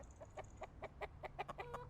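Rapid series of chicken clucks from a soundboard hotkey effect, about ten short clucks in a steady rhythm, fairly faint and alone.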